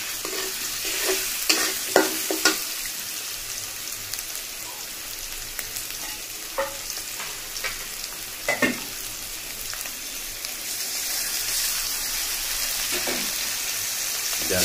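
Potatoes fry in a pan with a constant close sizzle, broken by scattered scraping and clinking as they are stirred.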